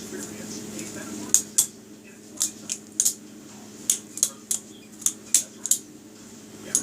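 A balisong butterfly knife with a contoured blade flipped by hand, giving a run of sharp, bright metallic clicks and clacks in irregular bursts over a steady low hum, close up and with no talking.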